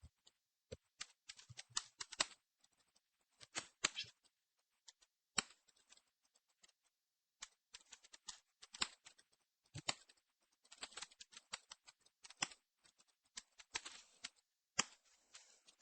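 Someone types a password on a computer keyboard at a Linux machine, producing quiet clustered bursts of rapid key clicks separated by short pauses, with no speech.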